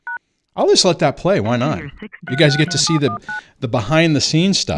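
Short DTMF keypad tones from a phone dialing into a studio conference line sound briefly at the start and again in quick pairs mid-clip, mostly beneath someone talking.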